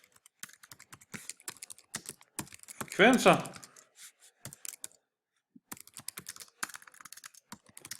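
Rapid clicking keystrokes on a computer keyboard while working in Maple software, close and crisp, with a short spoken phrase in Danish in the middle and a brief pause before the typing resumes.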